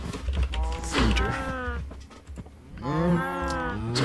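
Cows in modded Minecraft (Feed The Beast DW20 pack) let out two drawn-out, fairly close moos, one early and one near the end, with a faint low background hum between them.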